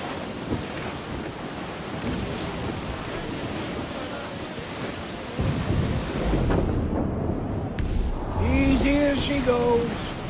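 A thunderstorm at sea in the video game Assassin's Creed IV Black Flag, with a dense roar of wind, rain and crashing waves and deep thunder rumbles, loud and continuous, with a short voice and sung tones rising near the end.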